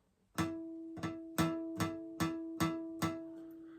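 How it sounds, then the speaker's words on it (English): A bright, bell-like guitar harmonic at the fifth fret rings out seven times in an even, steady rhythm, each note chiming sharply then fading, with no talking. "I'm going to cover it up very lightly with my index finger right here on this fret bar"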